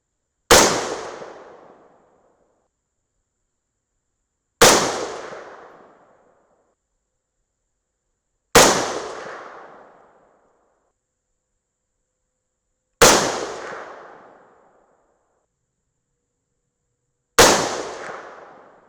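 Five rifle shots fired from the lightest barrel, each a loud, sharp close crack with a fading echo, evenly spaced about four seconds apart with silence between.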